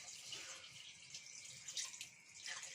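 Water runs steadily into a pot of ingredients to wet them for a broth, a soft continuous pouring and splashing at moderate distance, no talking.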